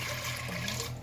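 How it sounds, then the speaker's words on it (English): Chicken broth poured from a carton into a cooking pot, a steady close liquid splash and gurgle running for about a second on its own. "So we're going to go in with the broth"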